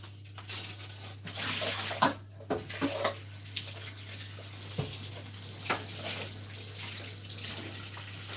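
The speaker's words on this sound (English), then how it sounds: "I'm gonna run some water over these." Tap water runs over eggs in a kitchen during a cupcake baking session, heard as uneven splashing bursts with quieter running water in between and no speech.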